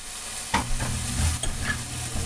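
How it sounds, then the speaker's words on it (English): Diced onions sizzle loudly in olive oil in a hot pan, with a broad steady hiss broken by a few clattering stirs and tosses, close up and with no voices. "put our diced onions in here. It's going to get a little loud, and that's a good thing"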